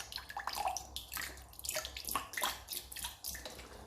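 Half a cup of vinegar splashes into a bowl for a fried chicken marinade, a close, uneven pour with a spattering, dripping texture lasting a few seconds and no voices.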